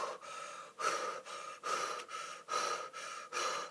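Deep breaths drawn in through the mouth, repeated about every half second to second in a steady rhythm of close, airy gasps with no talking.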